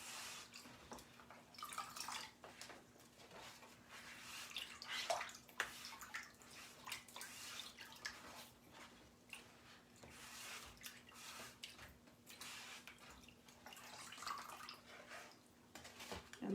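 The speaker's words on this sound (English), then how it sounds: "Just washing the paste off the front." Water sloshes and drips steadily in a tub as paste is rinsed off the front of a stencil transfer by hand, a soft continuous splashing with a faint background hum.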